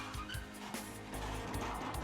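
A tractor pulling away from a trailer that has just set down five cherry bins at a packing shed, a close, steady engine rumble with clunks and a brief rising surge.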